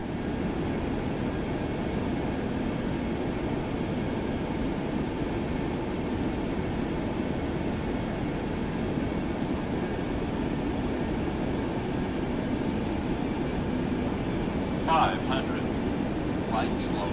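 A FlyJSim Boeing 727 on short final for landing in the X-Plane 11 flight simulator, its engines producing a steady, loud cockpit roar and rumble that continues unbroken, with a couple of faint chirps near the end.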